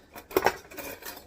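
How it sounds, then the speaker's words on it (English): A utensil clinks against a bowl while mixing ingredients for garlic parmesan chicken skewers, with a few close, light metallic taps clustered in quick succession before a softer scrape. "Now we're going to mix that together"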